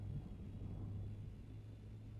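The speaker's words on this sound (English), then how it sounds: "Storm's still here." Low, steady rumble of a sandstorm in the video game Dune: Awakening, a continuous deep roar with no breaks or talking.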